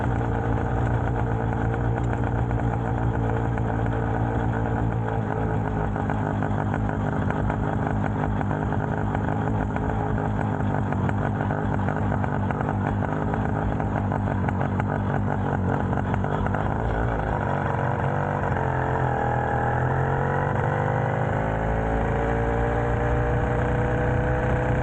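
A small motorized bicycle engine runs steadily while riding on a cool fall day, a constant buzzing drone with a slight pitch shift near the end, loud and close throughout.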